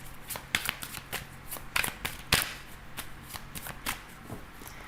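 Tarot cards being shuffled by hand make repeated crisp riffling and slapping bursts at an uneven rhythm, close and fairly quiet, with no talk over them.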